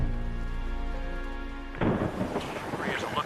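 A thunderstorm, with steady rain pouring for nearly two seconds before a loud crack of thunder bursts in close by and rolls on under the continuing downpour.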